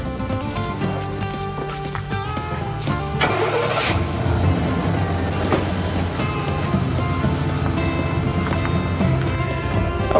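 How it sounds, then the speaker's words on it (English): Pickup truck engine starting and pulling away while dragging a rope tied to its trailer hitch to skin a deer outdoors, a steady mid-pitched rumble that swells as it revs, loud and close, with no talking. "all you need to do is get in the truck and drive off"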